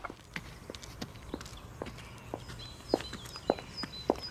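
Hard heel strikes of women's high-heeled shoes tap along a footpath, a handful of sharp clicks spaced irregularly and growing louder toward the end, passing close by over a quiet outdoor background with faint birdsong.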